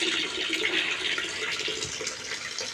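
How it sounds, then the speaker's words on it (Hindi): Mains supply water pours steadily into a container at a home, making a continuous splashing rush that stays even and fairly near, with no talking. "ये सप्लाई का पानी आ गया है, तो ये भरते हैं।"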